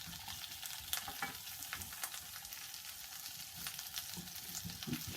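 Sweet and ordinary potatoes warming in a frying pan for a frittata, giving a soft, steady sizzle with occasional light scrapes and stirs, quiet and close, with no talking.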